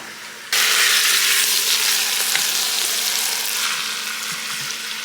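Pot roast meat hits the hot surface of a pressure cooker and bursts into a loud, steady sizzle that stays close and gradually softens.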